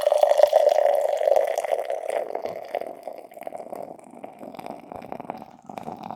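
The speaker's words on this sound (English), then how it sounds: "everyone's happy to hear that pour" Revolution Brewing Deep Wood beer pours from a bottle, a close gurgling, glugging stream that starts strong and gradually thins toward the end.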